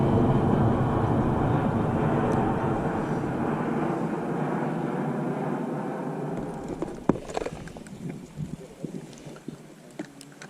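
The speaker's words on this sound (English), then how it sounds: "It's actually kind of cool watching these big jumbo jets landing" A big jumbo jet landing at Pittsburgh International Airport, heard from a nearby fishing spot: a loud, broad engine roar that slowly fades, followed by scattered clicks and knocks close by.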